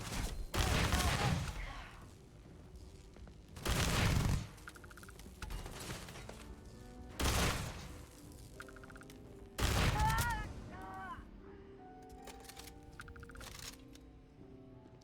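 Heavy gunfire in a sci-fi space game firefight crashes in four loud bursts separated by quieter stretches of electronic tones and game effects, with no voices over it.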